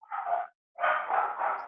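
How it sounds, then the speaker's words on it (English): A dog barks in the background of a home work setting, two muffled, somewhat distant bursts of barking separated by a short gap, the second longer and more sustained. "Somebody's got a dog in the background there here."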